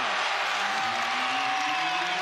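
Home basketball crowd at the Huntsman Center during a Kansas vs. Utah men's game, a steady loud roar of cheering and crowd noise filling the arena without pause.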